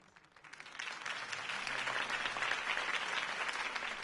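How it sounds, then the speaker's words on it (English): Applause from a crowd swells up quickly and holds as a dense, steady clatter of clapping, moderately distant, with no talking over it. "could have heard that applause"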